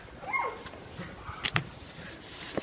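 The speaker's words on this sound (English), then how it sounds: "There's a big hefty dog over there." A big hefty dog gives a few short, distant whimpering yelps and barks outdoors, faint and scattered against a quiet background.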